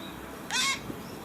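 A single harsh caw, likely from a crow, rings out once outdoors against a quiet background, brief and fairly close.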